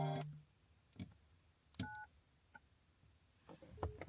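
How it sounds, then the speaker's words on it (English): A phone plays short electronic call tones, a few brief beeps spaced apart against quiet room sound, heard close but faint. "Ooh, phone call."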